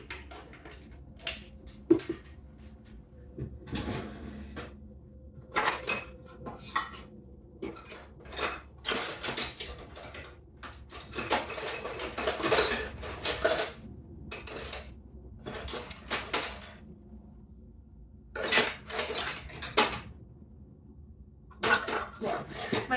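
Measuring cups and spoons clink and clatter in a home kitchen as someone rummages through them, with scattered irregular metallic rattles and bumps, fairly quiet, stretching over many seconds.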